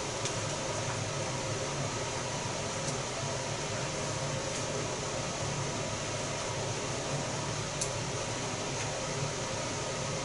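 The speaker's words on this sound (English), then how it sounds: "Can you hear out there? Sometimes the air conditioner." An air conditioner hums steadily in a room, a faint broadband whoosh with a low droning undertone running unchanged throughout, with a few tiny ticks and clicks and no voices.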